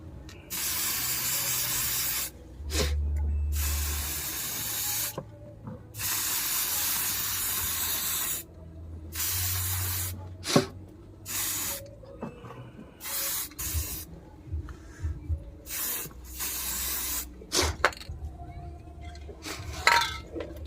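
Spray paint hisses in repeated bursts onto a rusted water cooler motor, long steady blasts separated by pauses, with occasional clinks and handling noises between sprays; no one speaks.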